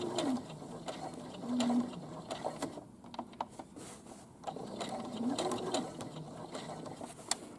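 A sewing machine stitches a curved seam on shorts, running slowly in steady mechanical whirring bursts with brief pauses, close and moderately loud throughout.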